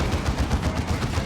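Plasma cannon fire in the real-time strategy game Warhammer 40,000: Dawn of War 2, a loud, rapid series of punchy energy blasts repeating in a steady rhythm without pause.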